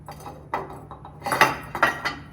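Eggs are set one after another onto a heavy ceramic leaf dish, giving a few close, light clinks and knocks of shell on glazed ceramic with small handling noises between them.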